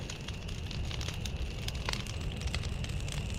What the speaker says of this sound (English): we got a nice bonfire going back here in the plot